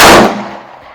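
A single sharp, loud report from a Smith & Wesson J Frame revolver firing .38 Special at a range, close and punchy, trailing off in a short echoing decay.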